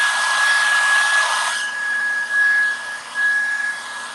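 A hair dryer blows on a freshly painted flea market piece, a steady close whine and rush of air that shifts in loudness as the dryer moves, with no talking.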